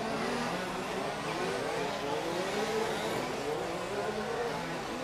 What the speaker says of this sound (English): because you've got 5 or 6 cars running together